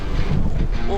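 Wind buffets the microphone while riding outdoors, a loud steady rumble with low gusty roar filling the whole second.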